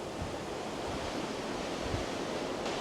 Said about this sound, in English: Look how calm this sea is, though.